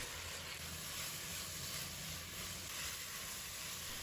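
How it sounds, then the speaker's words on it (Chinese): Beef with red pepper and onion stir-fried in a wok over high heat, giving a steady, loud sizzle with a broad hiss that runs unbroken and close throughout, with no talking. "大火继续翻炒均匀"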